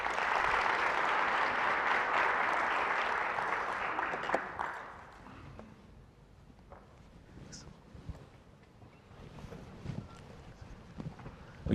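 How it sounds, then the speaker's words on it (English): Audience applause greeting panelists at a business conference, a broad, steady clapping that is loud at first and fades after about four seconds into murmuring and scattered room noise. "please give me a hand in welcoming our panelists to the stage"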